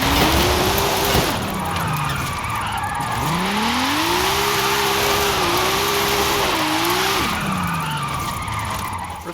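A 1955 Mercedes-Benz 300 SLR in Forza Horizon 5, set up with an all-wheel-drive drift tune, revs hard through the gears with a rising and falling engine whine while its tyres skid and screech loudly throughout.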